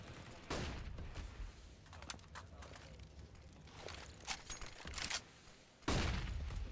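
AWP sniper rifle shots in a CS:GO match fire as sharp, isolated cracks a few seconds apart, with the loudest blast near the end, over background game noise and faint commentary.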